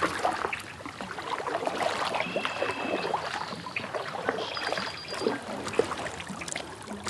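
A kayak out on a lake in late April, with soft, continuous water lapping and paddle swishes close by, joined by faint light chirps in the background.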